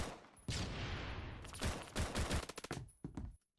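Gunfire in the Phantom Forces video game crackles in a dense fusillade of rapid, overlapping shots, then breaks into sharper, separated bursts before cutting off abruptly.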